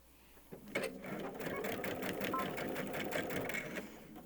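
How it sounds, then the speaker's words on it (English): A sewing machine starts after a brief pause and runs in a steady rapid mechanical chatter, stitching forward and then back to lock the stitches, close and fairly loud throughout. "I'm going to stitch forward a few stitches, and then I'm going to stitch back to lock them in"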